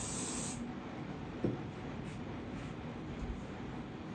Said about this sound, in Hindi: बैक कॉमिंग करके आपने हेयर स्प्रे लगाया